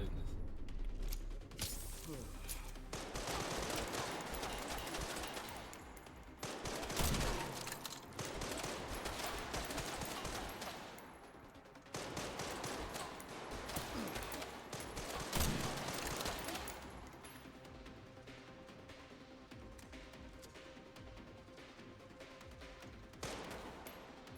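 Repeated bursts of gunfire from the video game Resident Evil Requiem, loud and dense in several volleys with mechanical clicks between them, and a voice speaking over parts of it.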